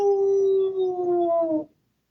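A person imitates an old hound dog's howl, one long sustained wavering voiced howl lasting under two seconds, close and loud, gliding slightly downward before cutting off into silence.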